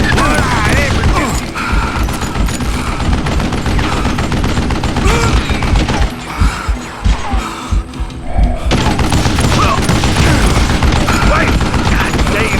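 Sustained gunfire from the Western shooter game Call of Juarez Gunslinger: rapid overlapping shots and mechanical clacks fill the whole stretch, loud and dense, with game music and effects underneath and no talk.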